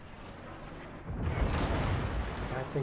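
Naval guns fire in a warship video game, a deep rumbling boom swelling after a quieter start and lingering as a heavy roar, with more low thuds near the end.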